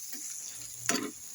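Spices, turmeric and masala powder, stirred into a homemade Nepali pickle mixture cooking in a pan: a faint sizzle with one short scraping stir near the end.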